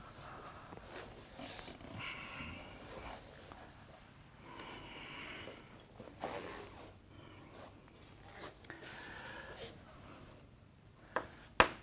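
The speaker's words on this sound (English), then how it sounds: "I can erase this part now" A blackboard eraser rubs over written math. The scrubbing strokes are faint and rhythmic, with soft pauses between passes, and a couple of sharp taps come near the end.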